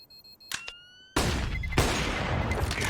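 Rifle fire in a Counter-Strike: Global Offensive match, a couple of sharp shots followed by a loud burst of sustained gunfire and clatter close up.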